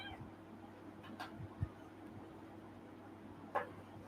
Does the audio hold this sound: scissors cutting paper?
no